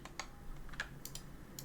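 Shortcut keys tapped on a computer keyboard, a few quick, quiet clicks spaced irregularly over a soft room hum.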